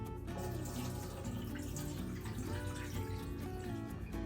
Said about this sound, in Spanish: Voy a agregar un poco de agua al fondo de la charola.